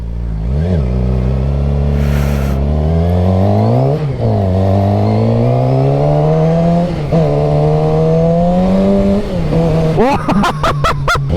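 A motorcycle engine revs up and down repeatedly, close and loud, with a rattling exhaust fault adding a choppy, popping burble toward the end.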